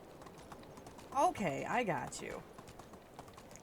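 A tired donkey's hooves clop briefly in the Medieval Dynasty video game, a short burst of hoof sounds under a man's speech, with faint clicks before and after.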